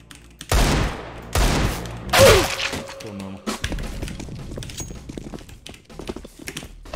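Several loud, sharp gunshot bursts crack out in quick succession, followed by quieter rattling and thumping, up close and harsh, in the video game CS:GO.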